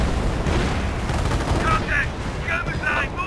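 Tank guns fire in a WWII strategy game, a Hetzer tank destroyer trading shots with a Churchill tank amid dense, continuous battle noise, with sharper bursts near the end of the clip.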